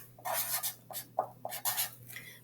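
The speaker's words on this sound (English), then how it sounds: "let me write the word again" A pen or pencil writes a word by hand in short, quick scratchy strokes, close and quiet, with brief pauses between strokes.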